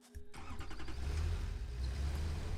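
A tractor vehicle's engine in the factory-building game Satisfactory starts up and settles into a steady, low, rumbling drone, close and continuous.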